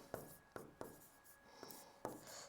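Chalk or marker strokes on a classroom board during a Hindi punctuation lesson, a handful of short scratchy taps and rubs in an irregular rhythm, close but quiet, with no talking.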